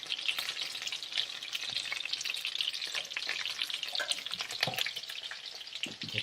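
Tomato and ground coriander fry in a pan with a steady, close sizzle and crackle, plus occasional stirring clinks and a faint watery drip, with no talking.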